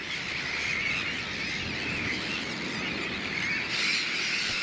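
A dense colony of sandwich terns calls nonstop, a shrill mass of overlapping squeals and harsh squawks from many birds at once, steady and moderately distant, with no voices.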